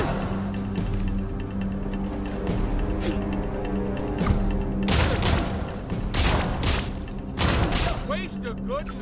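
Rapid gunfire and thumping impacts from the Wasteland 3 game, a dense rattling fusillade with sharp louder bursts over a busy rumble of combat.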